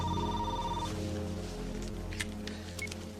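A cell phone rings with a short electronic tone that sounds briefly at the start and then stops, leaving a low sustained background hum with a few faint clicks.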